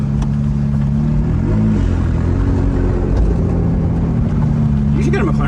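A McLaren 675LT launches hard from a standstill, its twin-turbo engine roaring in a deep, loud, continuous rumble that swells as the car accelerates, with voices inside the cabin.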